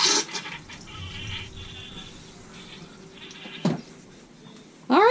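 A Dometic 310 RV toilet flushes with a rushing, gurgling swirl of water that fades into a trickle and then cuts off with a gulp. It is heard close up with no talking.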